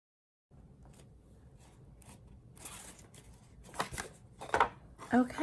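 Paper ends of an explosion box are folded and creased, giving soft rustles that build into sharper crinkles and crisp pressing snaps toward the end, close and fairly quiet.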